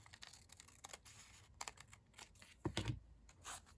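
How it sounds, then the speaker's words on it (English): Scissors cut the edge off a junk journal paper page in a series of close, crisp snips and rustles, with a louder crunch near the end. "I'm gonna cut the side off a little bit here."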